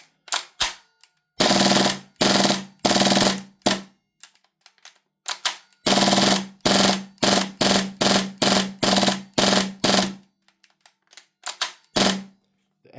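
An Airtac MP9 airsoft gun fitted with an HPA shot shell adapter at about 120 psi fires in loud, sharp bursts, rapid strings of shots broken by short gaps and a few scattered single pops.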